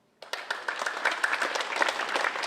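An audience at a 2015 all-candidates debate breaks into steady applause that starts suddenly and holds as a dense, sustained wash of clapping filling the hall.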